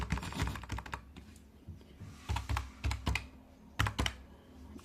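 Someone types Java code on a computer keyboard in bursts of quick, close key clicks separated by short pauses, with no talking.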